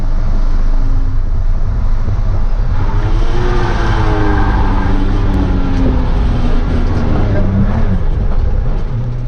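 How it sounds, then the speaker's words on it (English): A car engine over-revs after a missed shift into second gear, a loud roaring rev that climbs and wavers with rising, falling harmonics over steady road noise. "you shifted into second, and that sent your rev counter all the way over and then broke the rear end loose"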